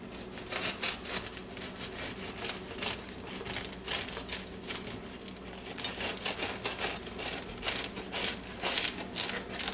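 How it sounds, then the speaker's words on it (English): French bread baked in a bread machine sliced with a knife, a close, quiet run of rhythmic rasping saw strokes and crumbly crunches, no talk. "I'm going to attempt to slice this up"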